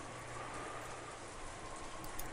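Steady rain falls in Umineko: When They Cry, a continuous even hiss of drops with no breaks, moderately quiet and alone.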